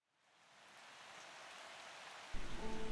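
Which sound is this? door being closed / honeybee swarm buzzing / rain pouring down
rain pouring down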